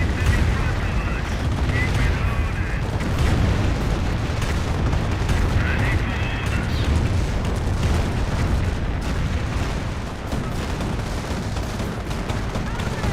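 Units trade gunfire in the WWII strategy game Company of Heroes 1, and the battlefield noise stays thick and loud throughout, with rapid shots, heavy thuds and booms packed closely together.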